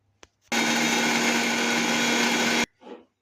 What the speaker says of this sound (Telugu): మిక్సీ గిన్నెలోకి అయితే సగం సగం వేసుకొనేసి పట్టండి